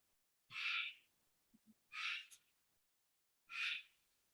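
A pet bird calls in a room during an evening zoning board meeting, giving three loud, bright, shrill squawks about a second and a half apart, close to the microphone, with faint soft chirps between them.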